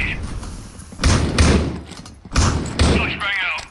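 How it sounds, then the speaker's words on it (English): A flashbang grenade goes off in a tactical shooter game during a grand-finals esports match, heard as several sharp, booming bursts in quick succession while a commentator talks over them. "Flash bang"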